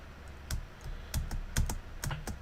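Space bar on a computer keyboard pressed over and over while playing a TRS-80 bomber game in an emulator, a run of sharp, close clicks at an irregular rhythm, about nine presses with nothing else heard.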